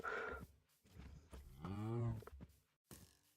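A Minecraft cow gives a drawn-out, fairly quiet moo in the middle of the clip, with soft game sounds and bits of voice around it.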